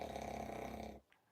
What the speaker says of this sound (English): And there's the snore.